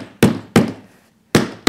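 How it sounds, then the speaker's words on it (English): Four sharp, loud hammer blows, evenly spaced with a pause before the last pair, driving nails through thick leather into a bar chair's upholstery, each strike ringing briefly before fading. "So after clipping around, you hammer it down."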